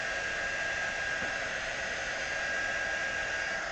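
Hair dryer blowing over gelled hair, a steady loud airy whoosh that holds unchanged throughout with no voices.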